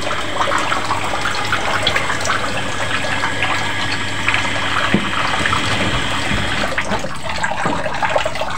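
Steady rush of water from a kitchen tap filling a container, continuous and fairly loud throughout with no talking.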